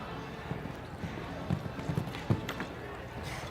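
Horse hooves clip-clopping on a show jumping course at a big-money team final, a quick rhythm of light thuds across a few seconds with a commentator talking over them.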